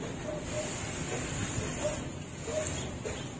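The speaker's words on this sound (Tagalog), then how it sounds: "simple lang, paliguan lang natin ng ganito ay yung talbos ng ating mga bougainvillea" A sprayer hisses continuously as it mists bougainvillea shoots, a soft, steady spray with faint intermittent squeaks and light handling noise.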